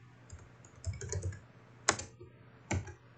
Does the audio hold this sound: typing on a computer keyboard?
yes